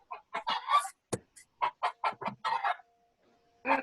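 A farm chicken clucking close by, a quick run of short choppy clucks, a pause, then a few more clucks, with no talking.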